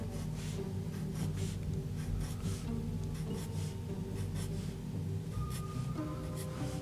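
A pen draws shark fins along a cartoon dragon on paper, making a run of short scratchy strokes in quick rhythm over a steady low background hum.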